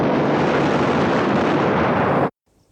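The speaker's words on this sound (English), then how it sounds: "Firing squad." A film firing squad lets loose one long, loud, unbroken roar of massed gunfire lasting over two seconds, then cuts off sharply into near silence.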